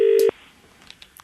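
A telephone line dialing a call to the Daily Mail: one loud, near DTMF tone lasting about a quarter second, then a faint line hiss with a few small clicks.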